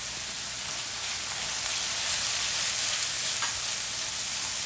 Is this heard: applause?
no